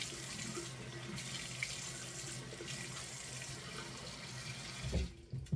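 Water is squeezed generously onto lace wig fabric, a steady close-up rush of running, splashing liquid that flows continuously throughout.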